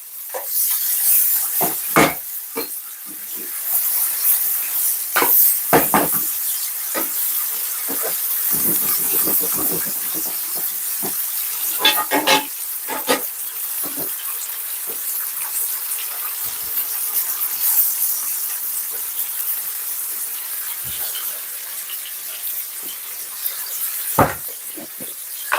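Tilapia fillet frying in butter in a pan after being turned, a steady close hiss and sizzle with scattered pops and crackles running throughout.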